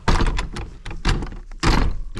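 Doors of a vehicle or shelter being shut while wild camping in the Scottish Highlands, three loud close thumps with rattling bursts, each separated by short pauses, no talk.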